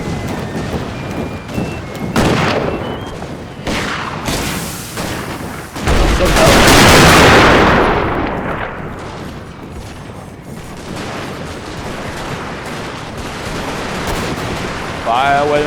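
Musket and artillery fire in an American Civil War Total War battle: scattered gunshots and heavy booms, with a loud rolling blast in the middle, under a steady battlefield din.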